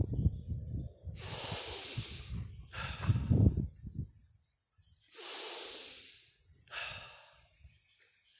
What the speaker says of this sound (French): Inspirez. Et on souffle.